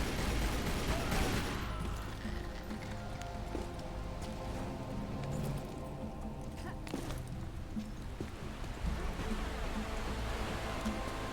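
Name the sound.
gunfire in Tomb Raider video game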